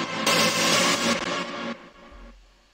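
Saturated rave synth sample in A minor from a hard-techno Ableton 11 template, drenched in echo and reverb with sidechain pumping: a loud, dense chord stab that swells and then drops away into a low thump, no voices.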